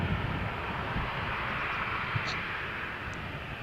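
A Jet2 airliner taxiing for takeoff at Malaga Airport on a stormy morning, a steady, fairly distant engine rumble and hiss holding even throughout, with no voices.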